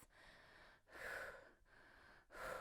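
Steady, close breathing during a Pilates arm-circle exercise: two audible breath cycles, each a soft lull followed by a fuller, louder rush of air, with no speech.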